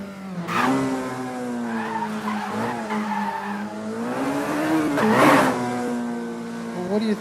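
Car tires squeal and skid in a racing video game as a revving engine wails alongside. The screech rises and bends in pitch, with a sharp burst near the end.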